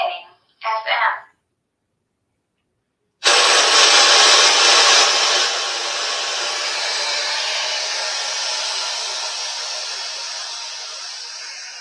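Spirit box radio sweeping across FM stations, a loud continuous wash of hiss and static that starts abruptly after a short quiet stretch, with a brief burst of sound before it.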